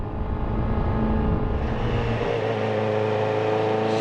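Motorcycle engine held in first gear on a group ride in Japan, a loud steady rumble that revs upward and shifts pitch midway, running close and continuous without talk.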